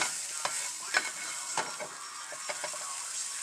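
Eggs cooking in hot oil in a home kitchen, a steady hiss of frying with scattered light scrapes and clicks of stirring over the top, close and fairly quiet, no talking.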